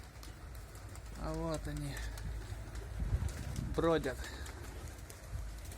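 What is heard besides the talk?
domestic pigeons cooing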